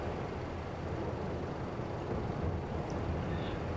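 A harvester engine idles with no one at the controls in the Farming Simulator 22 video game, giving a steady dense rumble with a windy hiss layered over it, constant and fairly close throughout.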